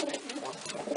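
Domestic pigeons coo in a breeding loft, a soft, steady murmur of several birds close by, continuous through the brief moment with no talk over it.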